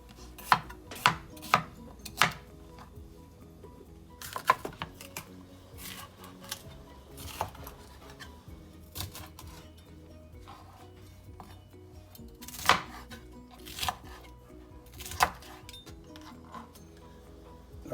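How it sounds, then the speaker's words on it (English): Peppers being chopped with a knife on a board for sofrito, sharp close knocks coming in irregular clusters with quiet gaps between them, alone without talk. "all the peppers are chopped up"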